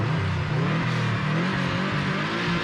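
A rally car launches hard from the start line on gravel with a bit of wheel spin. The engine gives a steady, loud, droning rev at a middle distance, with no voices.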